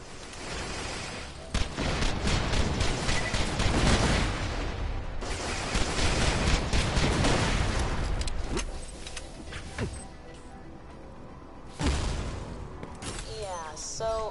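Gun turrets fire in Borderlands: The Pre-Sequel, a dense run of rapid shots and impacts that swells and fades in bursts through most of the stretch, layered with other game noise.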